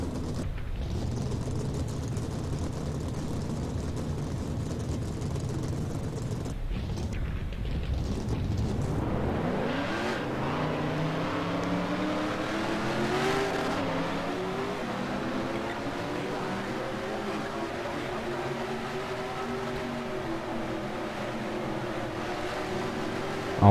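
Race car engines in the NR2003 racing game fire up and rev, a rising, layered roar that swells and holds steadily after a rumbling start, with no voices.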